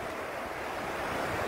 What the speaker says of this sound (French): remarquez la mer, remarquez les vagues